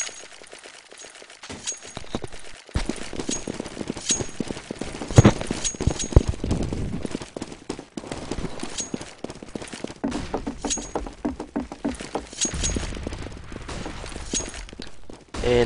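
Counter-Strike gunfire, sharp repeated shots and short bursts scattered through the round along with footsteps and game noise, at moderate loudness.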